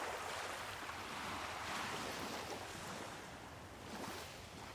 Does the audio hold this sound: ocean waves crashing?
yes